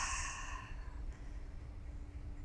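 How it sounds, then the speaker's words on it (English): A single deep exhale through the nose during a yoga session, a soft breathy rush at the start that fades within a second into quiet room tone. "Let's take a deep breath in through the nose. And exhale."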